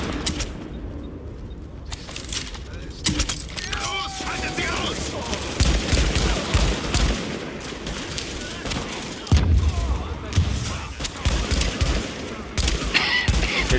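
Automatic gunfire from an assembled weapon with heavy recoil in the shooter game The Division, loud, rapid bursts rattling almost continuously, with some louder booms and someone talking over it.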